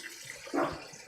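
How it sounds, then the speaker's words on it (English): Water from a tap splashes into a mixing bowl during a brief rinse, a short rushing burst swelling in the middle and fading, fairly close. "Let me clean off the bowl"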